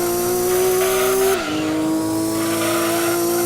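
A front-engine, rear-wheel-drive race car in a Gran Turismo 2 endurance race howls at steady high revs while its tires squeal and scrub for grip. A sharp drop in engine pitch midway is followed by continued loud, close skidding.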